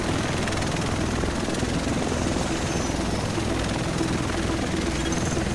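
Helicopter in Tom Clancy's The Division, a loud, constant rotor roar and engine whine filling the whole stretch without pause.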